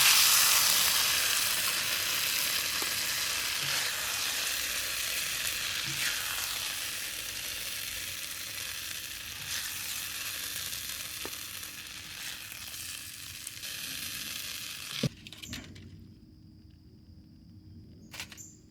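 A mango shrimp stir fry sizzles steadily in a hot pan, with occasional stirring clinks. The frying hiss slowly eases and then stops abruptly near the end, leaving a quiet room.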